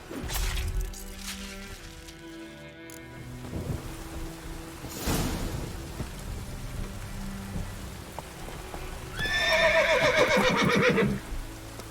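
Horse whinnies loudly near the end amid steady rain and rolling thunder during a Witcher 3 game storm, with an earlier thunder crack and a constant wash of rainfall throughout.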